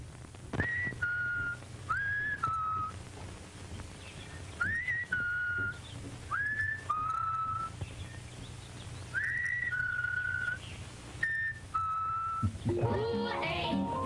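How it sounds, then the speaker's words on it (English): A 1950s Kool-Aid commercial jingle plays back through a radio broadcast, with a repeating whistled two-note melody in short phrases over a steady low hum and a noisy ending. "this is going back into the 1950s for a Kool-Aid commercial at that time"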